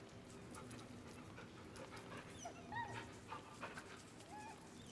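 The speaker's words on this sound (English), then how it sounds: "Our good dog." Scratch, the dog in Baldur's Gate 3, panting and whimpering in short soft whines, quiet and fairly close over a low game backdrop.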